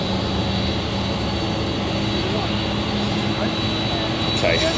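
An Emirates Boeing 777(ER) jet at London Stansted Airport gives a steady, loud broadband engine roar with constant tonal hum that holds throughout, with voices faintly present underneath.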